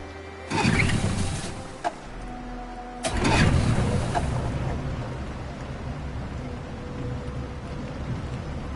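A boat engine in Detroit: Become Human starts with a loud burst, catches again about three seconds later and then settles into a steady low rumble over rain.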